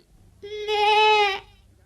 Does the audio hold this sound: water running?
no